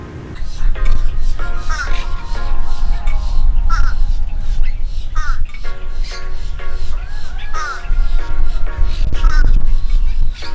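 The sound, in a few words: crows cawing at a park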